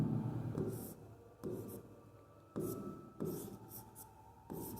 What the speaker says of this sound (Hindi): यहाँ से मैं लिखना स्टार्ट करता हूँ